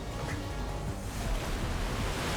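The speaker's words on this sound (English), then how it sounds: "That is a lot of water." Water surges in the Genshin Impact video game as a loud, broad, continuous roar that fills the whole stretch without a break.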